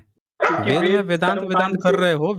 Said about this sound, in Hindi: देखिए आपको तो देख के कुत्ता भी भौंक रहा है।